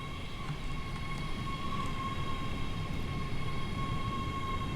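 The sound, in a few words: ScotRail class 385 train departing in the video game Train Sim World 5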